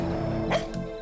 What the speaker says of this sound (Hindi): तो मौत की आहट सुनकर भौंक रहा है